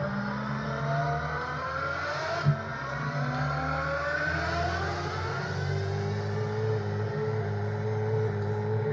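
A Nissan GT-R Skyline runs at high speed, its engine droning steadily with a sustained, slowly shifting tone and rushing road and wind noise, loud and continuous, with a brief knock partway through and no talk.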